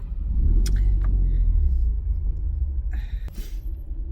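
A car engine rumbles low and steady from inside the cabin, with a few faint clicks and small interior noises over the continuous drone.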